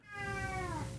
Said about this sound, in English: Sorry, there's a cat.